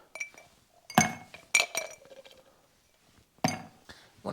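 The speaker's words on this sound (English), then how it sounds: "We throw in some nice ice cubes." Ice cubes dropped into a glass while mixing a Bloody Mary, giving several bright clinks and rattles in quick separate bursts close by, with quiet gaps between them.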